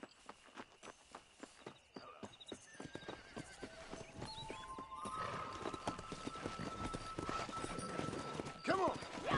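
Several horses clip-clop at a gallop in the Western video game Red Dead Redemption, hoofbeats rhythmic and steady, joined by whinnies and rising bursts of speed, with voices talking over the action.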